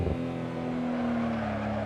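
Simulated Nissan Skyline GT-R R34 engine at the Nürburgring in Assetto Corsa, a steady sustained drone with a strong held tone that hums on without a break, then fades slightly toward the end, close and loud.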